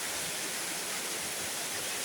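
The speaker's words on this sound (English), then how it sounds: "Rain is falling" Steady rain falls in a dense, even hiss with no breaks, close and fairly loud throughout.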